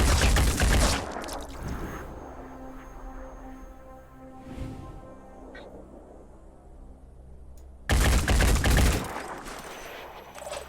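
Gunfire from the turn-based game Phoenix Point: a loud burst of rapid automatic shots, a quieter ringing tail with a faint mechanical hum, then a second loud burst of shots, with no talking over it.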